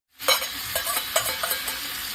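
Green chilies hit hot oil in a pan over lowered gas for a Khandeshi bombil thecha, and a sudden loud sizzle bursts in, then settles into crackling spatter with stirring scrapes and no voices.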